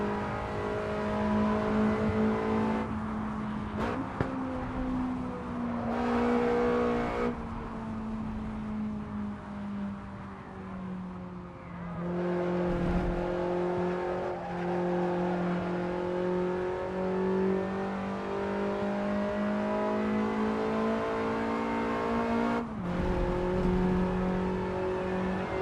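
A Lancia Delta S4 Stradale in the racing game Assetto Corsa, its engine droning loud and close as it holds steady revs, dips through gear changes and climbs again through fast corners.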